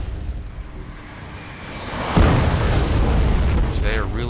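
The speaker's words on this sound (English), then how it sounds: "So they are really getting hammered by that artillery" Artillery shells explode in the video game Wargame: European Escalation, a low rumbling din that swells into a heavy boom midway, with a voice talking over it.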